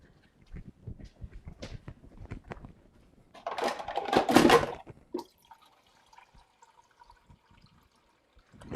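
Water poured from a container while cooking a Thai dinner at home, a steady close splashing pour lasting a couple of seconds after some light clinks and drips.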